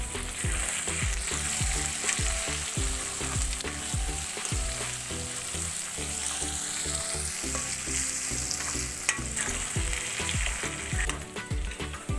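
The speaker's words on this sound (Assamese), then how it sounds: "আলুখিনি ভজা অলপ ৰঙচুৱা হোৱাৰ পিছত ইয়াতে আমি থেকেৰাখিনি দিম।" Diced potatoes seasoned with salt and turmeric sizzle steadily in hot oil, a dense, continuous frying crackle with stirring scrapes heard close up and without any talk.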